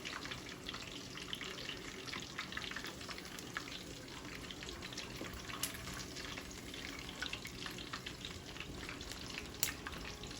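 Chicken wings frying in hot oil, a steady dense crackle and sizzle with faint bubbling, continuous and close with no voices.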